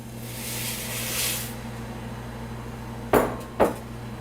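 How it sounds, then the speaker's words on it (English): Wild rice poured into a pot of seasoned broth at a boil gives a soft rushing hiss for about a second and a half, followed later by two sharp metallic clinks against the pot. "I'm going to add this rice."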